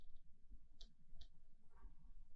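Mouse clicks while saving a project in Circuitmaker, two faint, crisp clicks close together over quiet room noise, no talk.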